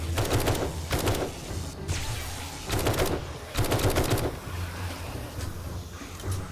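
Rifle gunfire in the zombie survival game 7 Days to Die, with several sharp bursts of rapid shots separated by short pauses and low engine-like rumble underneath.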